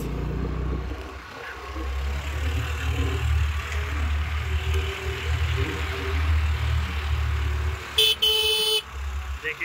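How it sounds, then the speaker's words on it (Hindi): Big vehicles climb a village road near Darjeeling, a steady low engine rumble close by with a loud horn blast near the end, wind and traffic noise throughout. "देखिए गाड़ी आ रहा है, बड़ा बड़ा गाड़ी"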